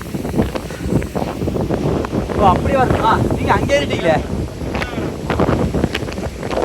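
Strong wind buffets the microphone on the Kondarangi hill top, a continuous rough roar with gusty swells, while people talk over it throughout.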